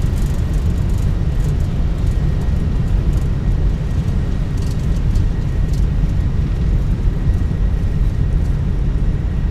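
An Airbus A320 rolls out and slows after touchdown in Microsoft Flight Simulator 2024, a loud, steady low roar of engine and runway rumble that holds without a break and without voices.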